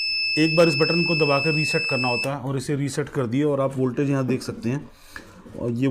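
Beeping from a homemade 8–10 amp DC power supply on power-on: thin steady high tones sit above someone talking continuously, lasting a couple of seconds and then stopping while his talk carries on.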